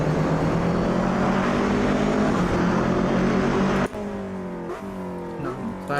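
GT3 race cars, AMGs and McLarens among them, lap Bathurst in Automobilista 2, their engines droning steadily and loud, then cutting sharply at four seconds to a quieter rising and falling whine as one car shifts through gears.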